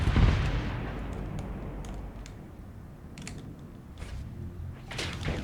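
Spaceship weapons firing in the Starsector video game, a heavy booming blast at the start followed by scattered sharp impacts and thuds over a low rumbling background.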